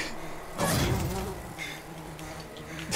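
A bee buzzes in the video game Decay of Logos, a thin droning hum that swells up close for a moment and then hovers more faintly.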